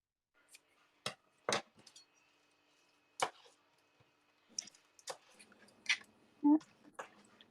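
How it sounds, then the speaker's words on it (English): Kitchen scissors snipping the big stems off spinach leaves, a few sharp, crisp clicks spaced irregularly across a quiet background, with faint soft handling sounds between cuts. "I've got scissors here. Just giving a little haircut. Sometimes I don't like these big stems, so I'll take the stems off too."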